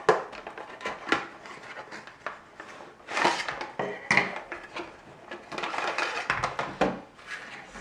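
A Light My Fire Swedish FireKnife package being opened by hand: irregular plastic crinkles, clicks and light knocks nearby, quiet and uneven, with a few sharper snaps.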